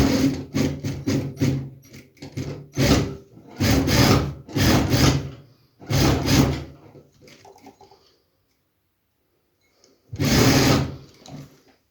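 Sewing machine running in several bursts as it stitches the seam of a man's trousers, with short pauses between runs, a longer gap and a final loud burst near the end.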